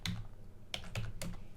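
Computer keyboard keys tapped to enter a company name, a handful of separate clicks spaced irregularly over a second and a half, close and soft against a faint low hum, no voices.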